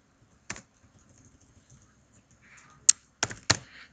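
Computer keyboard keys being pressed while entering a calculus function, a few sharp isolated clicks spaced apart in a quiet room, with a short faint rustle before the final quick pair of taps.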